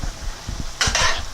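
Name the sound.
stirring and chopping meat sauce in a pan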